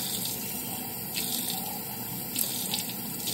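Hot water runs straight from a tap into a jar for dyeing fibre, a steady, even rush of flowing water that continues throughout with no talking.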